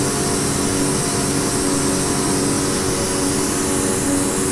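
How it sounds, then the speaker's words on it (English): Simulated Dornier Do 228 twin-propeller plane by Carenado cruising in FSX, a steady, loud, unbroken engine and prop drone with a constant hum throughout. "Check out our plane in flight."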